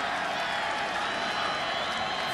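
Sellout stadium crowd of over 60,000 at a 2004 Miami vs North Carolina college football game, a dense, continuous roar of voices and cheering filling the space, steady and loud throughout.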